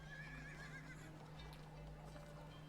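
A horse gives a faint whinny followed by soft clip-clop of hooves, all quiet and distant with no talking.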